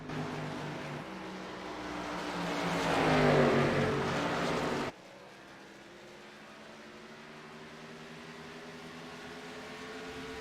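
Stock cars race in a video game at the Iowa oval: a loud, swelling engine roar that builds to a peak and cuts off abruptly, followed by a steadier, quieter drone of cars running on the long track.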